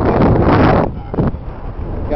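Wind roars hard against the microphone on a small-boat crossing in the Everglades wilderness waterway. It comes as loud buffeting gusts that ease off briefly and then build again, and people are talking.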